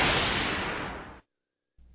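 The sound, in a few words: whoosh sound effect on final Flash text animation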